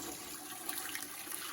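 Water from a tea kettle pours into the base of a pressure canner, making a soft continuous trickling splash with no voices.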